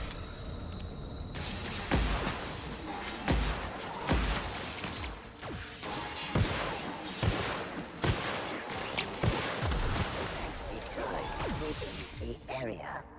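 Gunfire from a weapon in the video game The Outer Worlds, Spacer's Choice Edition, a string of sharp shots spaced every second or two over dense game noise, with a voice talking throughout.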